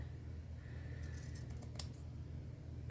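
Scissors cut through paper for shabby chic flowers, a few quick crisp snips near the middle with one sharper close snip, over a quiet steady hum, no voices.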